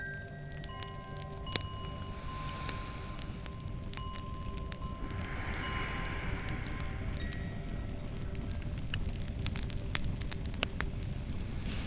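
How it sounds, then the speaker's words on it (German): Kindling catching in a wood stove as a small new fire, with soft, steady crackle and scattered sharp pops over a low hiss, continuous and fairly quiet with no voices. "Ein scheuches Flämmchen fängt im Ofen an zu züngeln."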